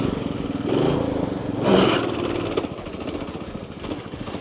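A racing lawn mower's small engine running at the Blacklands track, a close, buzzing mid-pitched drone that rises briefly as if revved, then settles back into a steady, slightly uneven idle.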